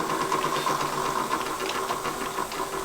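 A valve seat machine lowered into position during nickel alloy valve seat installation, giving a steady, close mechanical hum with a whirring motor tone and light rattling throughout.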